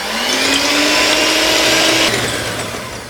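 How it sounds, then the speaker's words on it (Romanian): An electric hand mixer whirs loudly and steadily for a few seconds, beating egg whites in a bowl, its motor pitch rising slightly before easing off. "Și uite aici, 10 secunde, o mixare rapidă."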